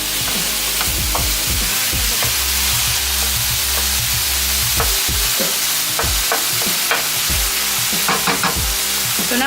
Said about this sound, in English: You also want to mix this up a bit so you don't get stuck with really large clumps of turkey.